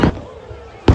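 Fireworks at Global Village Dubai go off as two short, sharp bursts about a second apart, with a quieter ambient lull between them.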